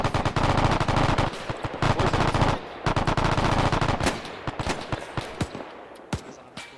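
Long, loud bursts of automatic machine gun fire in the Arma 3 video game, with rapid rhythmic shots that give way to scattered single cracks toward the end and no voices.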